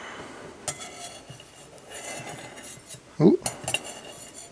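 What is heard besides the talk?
knife scraping in a pan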